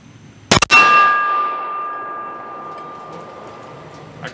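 .223 rifle shot striking an AR500 steel target plate: a sharp loud crack followed at once by a bright metallic clang that rings on with sustained tones, slowly fading over several seconds, with a faint tick near the end.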